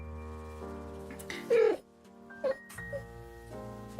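A cat gives a few short meows, one louder and longer, then two brief quieter calls, heard close over a low steady hum with no talking.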